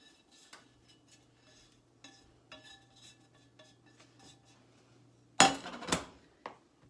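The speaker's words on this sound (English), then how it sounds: "I'm just going to add this to the potatoes, and I'm just going to start mixing everything together now" A spoon or spatula clinks and scrapes in a pan as fried onions are mixed into potatoes, with scattered light taps and a louder burst of metallic clatter near the end, with no voices.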